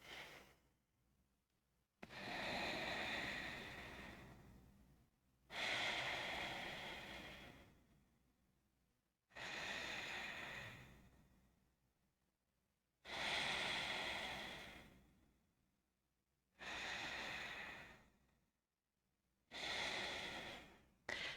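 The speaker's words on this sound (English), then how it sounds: "take 3 really deep Ujjayi breaths" Deep Ujjayi breaths during a yoga practice come as a slow, even cycle of long, airy inhales and exhales, about six strokes close to the mic, each separated by a brief pause.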